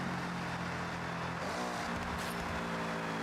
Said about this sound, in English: Downshift. In 400 yards. Hold on. A little rev match.